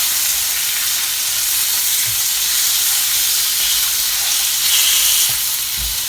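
Sausage and bacon frying in a pan give a steady, close sizzle with constant hiss and occasional pops and crackles, and no voices.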